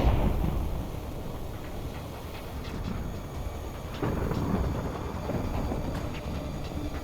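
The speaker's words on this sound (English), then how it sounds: "little did I know, another storm was about to arrive" Stormy weather in Minecraft's Iceland setting, a continuous low, rumbling wash of wind and rain with a heavier roll around the middle, steady and moderately loud, no voices.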